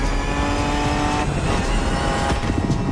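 A Ford Bronco engine in The Crew Motorfest growls steadily on Oahu, a loud, close, continuous motor tone with a brief shift in pitch midway, heard alone without talk.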